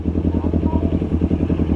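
A motorcycle engine revving hard and steady up close, loud and continuous with a rhythmic pulsing throb.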